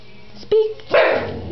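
Dog named Wally giving a single short bark on command indoors, close and loud, followed by a brief whimpering yip; a person's voice is faintly present.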